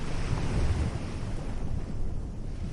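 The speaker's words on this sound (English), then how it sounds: "the waves will still be there, whispering your name against the shore" Ocean waves wash steadily onto a shore in Antigua and Barbuda, a continuous broad rushing surf with some wind noise, close and fairly loud, no voices.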